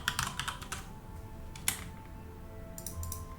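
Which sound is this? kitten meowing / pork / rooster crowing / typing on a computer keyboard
typing on a computer keyboard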